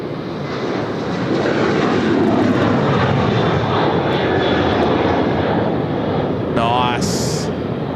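A ten-year-old Boeing 737 jet airliner roars past on the runway at Sydney Airport, a loud broad rumble swelling and holding close, with a commentator talking over it and a brief whistle near the end.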